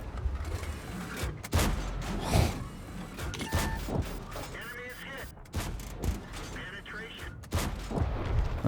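T57 Heavy tank main gun firing in a tank video game, several heavy booms and mechanical clanks amid engine rumble and battle noise, with someone talking over it.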